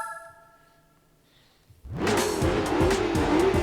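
Race car in Gran Turismo 4 launching after a faint electronic menu tone: the engine roars up with rising and falling gear-change sweeps and tire noise, loud and continuous.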